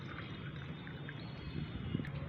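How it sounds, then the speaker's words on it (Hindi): Lukewarm water poured onto powdered tea leaves for feeding houseplants, a soft, steady trickle heard close up over low background hum, with a couple of faint clinks near the end. "अब इसमें हमें पानी डालना है"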